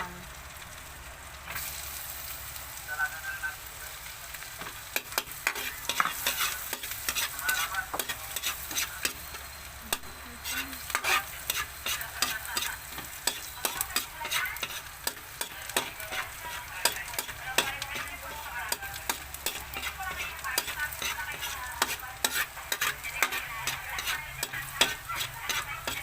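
Garlic fries in butter in a pan while a utensil stirs it, giving a steady close sizzle broken by many rapid scraping and clicking strokes that run throughout without talk.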